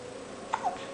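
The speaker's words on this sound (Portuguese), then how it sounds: "É o soluço chato, mamãe?" A baby boy hiccups twice in quick succession, short soft little bursts close by in a quiet room with no talking.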